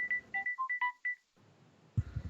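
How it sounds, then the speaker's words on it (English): A phone ringtone plays a quick melody of bright electronic beeps, about ten short tones in a rapid run, followed by a brief pause, quiet room noise, and a soft thump near the end. "It was just my ringtone."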